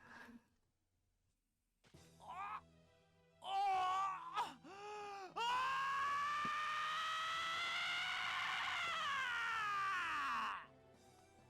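A video game character from Dies irae lets out a long, loud scream that rises and holds for several seconds after shorter anguished cries, set over quiet background music.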